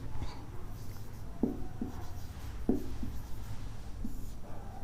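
Pen or marker strokes on a board or paper as a heading is written during an immunization schedule lesson, faint scratchy writing with a few sharper taps among quiet room noise.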